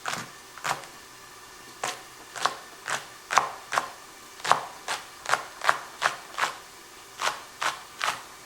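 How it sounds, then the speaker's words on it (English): Knife chops through about eight green onions on a cutting board, roughly fifteen crisp, evenly paced thunks close up with no one talking. "I have about 8 green onions right here. So I'll slice them up."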